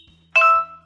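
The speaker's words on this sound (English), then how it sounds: "hear an alert tone, and then say the name of the contact you want to call" A phone's voice-dialing alert tone: a single short electronic beep, clear and close, over a faint low background hum.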